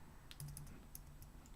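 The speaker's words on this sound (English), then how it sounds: "clumsy typing," Quiet clumsy typing on a computer keyboard, a handful of faint, irregular key clicks over a low background hum.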